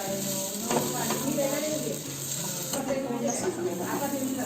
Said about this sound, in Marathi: परत एकदा अशी परतून घ्यायची.